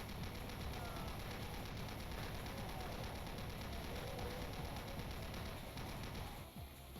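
Rapid, sustained automatic fire from the chaingun in the video game Doom, a dense continuous burst running loud and unbroken for several seconds before briefly dipping near the end.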